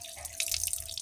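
Water trickles and splashes steadily over the exposed roots of a dendrobium orchid being repotted, a close, continuous wet patter with no talking.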